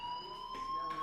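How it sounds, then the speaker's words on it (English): School fire alarm in the video game Life Is Strange, a steady electronic tone ringing continuously with faint surges of background noise behind it. "Hey, do you hear that fire alarm?"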